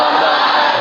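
A crowd of school pupils in a mosque shouting together in unison, a loud, dense burst of voices filling the whole short moment.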